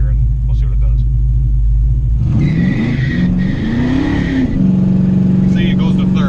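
A big block Oldsmobile Cutlass idles with a deep, loud rumble, then launches from a stop with a roaring surge of revs that climbs and shifts before settling into a steady drone.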